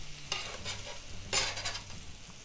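Apple cinnamon pumpkin French toast fries in a pan with a soft, low sizzle, broken by a couple of brief louder bursts of spatter as the slices are moved, with no voices.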